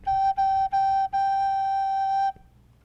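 A recorder plays the note G, three short tongued repeats then one long held tone, bright, pure and close, ending abruptly with no voices present.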